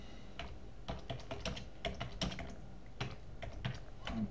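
A hand saw cutting the shoulder of a wooden tenon: a close series of short, crisp strokes in an uneven rhythm, fairly faint and with no talking.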